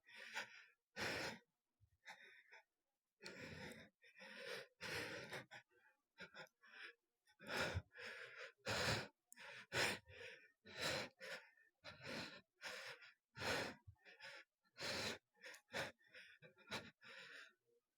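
Heavy breathing after exertion in Beat Saber, a string of loud, close gasps and panting breaths coming in uneven bursts with short pauses between them.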